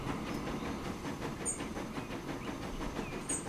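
A red-painted train in the video game Transport Fever 2 rolls along with steady rumbling and clattering wheels and a soft hiss, plus faint high tones from a whistle.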